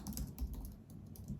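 Typing on a computer keyboard while entering a terminal command, a quick run of soft, close keystrokes in an uneven rhythm, fairly quiet with no speech.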